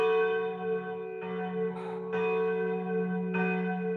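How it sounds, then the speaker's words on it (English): Heavy church bell of a neighbouring church striking, a sustained ringing tone with a long humming decay and fresh strikes layered over it roughly every second, resonant and alone. "The heavy bell of a neighbouring church struck from 6 to 7."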